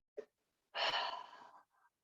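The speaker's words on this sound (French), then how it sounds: "Encore une fois, j'inspire." A single deep, audible inhalation during a gentle Pilates exercise, close and soft, preceded by a brief faint breath and followed by a quiet exhale tail in an otherwise silent room.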